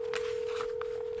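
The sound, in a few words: dialing a phone call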